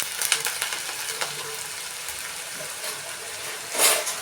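Finely chopped onion frying in hot oil for a traditional banana flower vegetable dish, a steady close sizzle with light stirring scrapes and a brief louder burst near the end.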